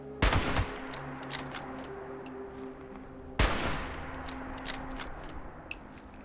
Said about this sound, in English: Oh, he's taking pot shots.